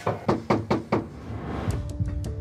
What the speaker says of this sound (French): Les fêtards n'entendent même pas les policiers frapper à la porte.